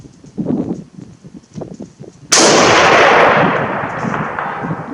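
A single loud Mosin Nagant M91/30 PEM sniper rifle shot booms out midway, its blast trailing into a long rumbling echo, after a few seconds of low indistinct voices at an outdoor range.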